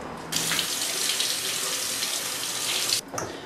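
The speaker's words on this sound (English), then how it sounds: "just rinse it off in the sink real quick" A kitchen tap gushes steadily into a sink as a whole raw chicken is rinsed under it, the water starting abruptly, running close and loud for a few seconds, then cutting off with a short splash.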